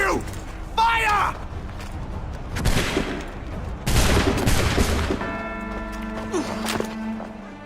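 A musket volley rings out in Assassin's Creed III, a loud burst of massed gunfire followed by mechanical clicks and creaks, with voices and in-game dialogue around it.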